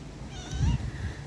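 Asyong the pet cat gives a single short, close meow that rises and then falls, with faint room noise around it.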